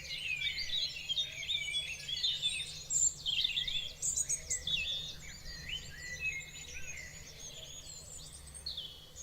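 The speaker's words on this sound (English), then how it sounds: "Bring the birds down a little bit." Bird song ambience played on a stream: dense, continuous chirping and trilling from many birds, steady and moderately loud, with a faint low hum underneath and no talking.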